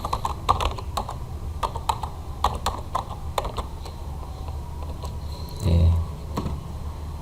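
Quick bursts of keystrokes on a computer keyboard while entering a formula in Excel, clattering in short irregular clusters, close and crisp, with one brief spoken word.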